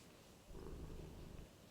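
A cat purrs very faintly and close by. A soft, low, rumbling flutter swells for about a second and then fades.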